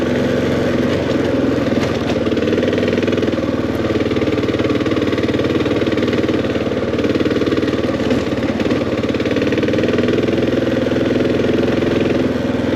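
A Kawasaki KLR 650 motorcycle engine drones steadily and loudly up close on a mountain ride through Linville Gorge, North Carolina, a continuous rumbling hum with little variation.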